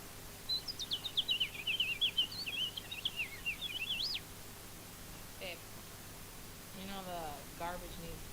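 A voice in VRChat mimics a house finch's song as a rapid, jumbled run of high chirpy warbles lasting several seconds, close and distinct, followed by a few quieter sounds and brief faint talk.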